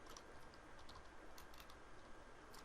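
Typing the word food on a computer keyboard in MS Word: a short run of soft, quick key clicks, faint and close, with no talking.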